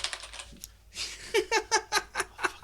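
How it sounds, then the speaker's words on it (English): Computer keyboard typing, a quick run of close, crisp key taps after a brief pause, with a few faint earlier clicks. "Stop touching my keyboard, bro."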